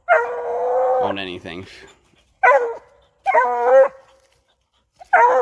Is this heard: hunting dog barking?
yes